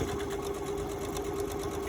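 A sewing machine stitches the flat seams along the folded edge of a cloth face mask, a steady rapid whirring hum that runs unbroken and close for the full two seconds with no talk.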